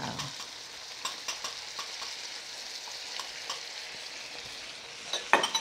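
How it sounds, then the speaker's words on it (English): Garlic shrimp and sauce heating in a pan give a steady, moderate sizzle with scattered soft clicks of stirring and a few sharper utensil scrapes near the end, no voices. "Just give the shrimp time to heat up, allow the sauce to reduce a little bit"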